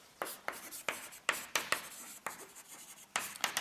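Handwriting on a surface, with about a dozen quick, close scratchy strokes in an uneven rhythm, quiet and alone without talk.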